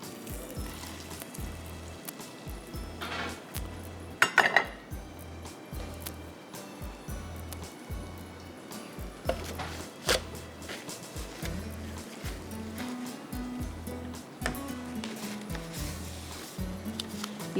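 Vegetables being stirred and tossed in olive oil in a pan, with soft sizzling and scraping spread over a steady rhythmic low background, a few sharper clatters standing out.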